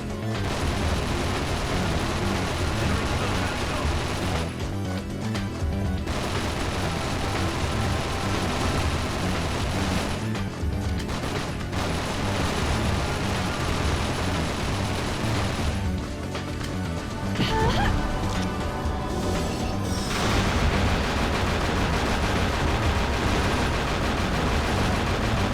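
Rifle gunfire rattles through a chaotic fight in The 3rd Birthday, dense bursts of shots and crashing impacts layered over loud game music, with a few brief pauses between volleys.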